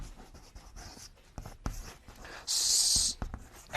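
Marker or chalk strokes scratch across a classroom board as a name is written, a series of short irregular scrapes and taps capped by one longer squeaky stroke near the end, close and fairly loud with no talk.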